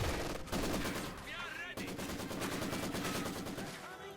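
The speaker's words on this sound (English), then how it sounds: "In terms of him, a medium machine gun" Sustained medium machine gun fire in the video game Company of Heroes 2, a dense continuous rattle of rapid shots, loud and near, with other battle noise mixed in.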